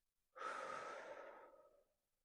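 A single long exhalation from a child during a mime story exercise, a soft airy breath out lasting about a second and a half, alone and close.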